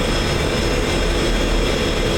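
In a flight simulator game, an F-16 jet taxies with a continuous, loud engine roar, a dense low rumble beneath a steady turbine hiss, holding level and near without pause.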